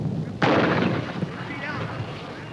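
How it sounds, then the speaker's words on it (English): A heavy American mortar fires once in World War II combat in the countryside, a sudden loud boom that rolls into a long rumbling decay, with muffled background noise afterward. "An American heavy mortar detachment clearing out the countryside for the infantry to move forward"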